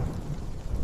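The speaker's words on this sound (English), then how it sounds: "Above, the sky rages with nature's fury. Lightning cuts through the darkness, and thunder." A deep, rolling rumble of thunder from a raging storm, with rain noise mixed in, low and continuous through a brief moment, no voices.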